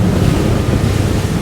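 Strong wind buffeting the microphone over the deck of a 2022 Fjord 38 Xpress motorboat running in choppy ocean swell, a loud continuous roar and rumble with no voices.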